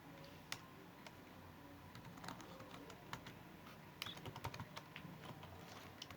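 Typing on a computer keyboard, quiet irregular key clicks and taps with brief bursts of faster strokes, close by and with no voices.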